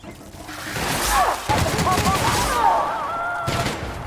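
Gunfire in The Outer Worlds, rapid bursts of shots and booms layered over one another, loud and close, with game voices shouting over the firefight.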